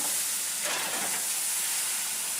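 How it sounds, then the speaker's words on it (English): Ice cubes tossed into a hot oven for steaming bread, a brief rushing hiss of steam that swells and holds steady, close and fairly loud, no voices. "Just throw some ice cubes in there. You're gonna steam it."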